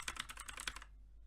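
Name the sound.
key presses on Sandberg Hailstorm keyboard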